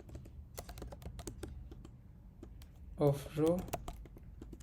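Keys clatter in a quick, irregular run as code is typed on a computer keyboard, close and fairly quiet, with someone speaking briefly near the end.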